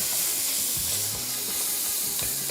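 Chopped garlic sizzles steadily in hot butter in a pan, a dense continuous frying hiss with a few soft clinks of stirring.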